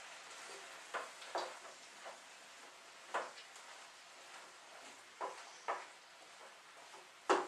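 Vegetables with freeze-dried garlic being stirred in a pan, soft sizzling throughout with a series of scraping strokes spaced irregularly, close and fairly quiet.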